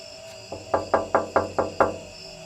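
Six quick, evenly spaced knocks on a door, close and fairly loud, over a faint steady background tone.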